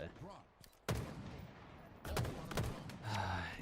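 Video game gunfire in bursts: a sharp shot, then rapid volleys of loud cracks with echoing tails, spread unevenly over a few seconds.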